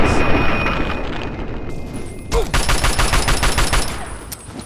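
A shotgun blast followed by a burst of rapid gunfire in the video game Fallout 3, loud and close, with rattling repeated shots trailing off.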